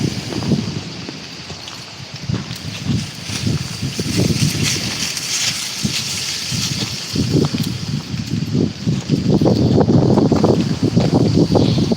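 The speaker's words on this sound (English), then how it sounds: "Ooh-wee, that wind be kicking up." Gusty wind buffeting outdoors beside a busy road with no sidewalks in a residential neighborhood, a steady broadband roar with rising and falling low rumbles that swell louder toward the end.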